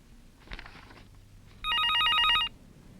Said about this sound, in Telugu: సత్య ఫోన్ చేశాడండి